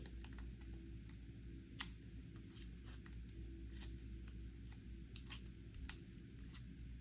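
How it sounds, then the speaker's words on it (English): Planner tape torn by hand in short, crisp ripping bursts, several quick tears in an irregular rhythm, close and faint over a low background hum. "Just a raw tear there."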